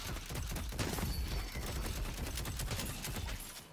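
Rapid gunfire from a weapon in the video game Deadlock, a steady stream of shots over a few seconds at moderate loudness, with no speech.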